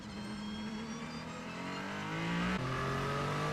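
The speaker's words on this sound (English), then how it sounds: "as the race goes green and Giovinazzi hits the throttle one more time" A Ferrari 499P Le Mans Hypercar accelerates hard at the Spa 6 Hours as the race goes green, heard from onboard with its engine note climbing steadily, briefly dropping at a gear change, then rising again.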